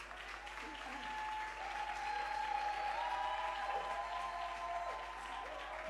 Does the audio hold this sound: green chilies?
no